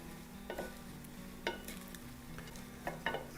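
Spinach or arugula stirred by hand into warm brown rice, giving a few soft scraping, rustling stirs at a close, quiet level over a faint steady hum.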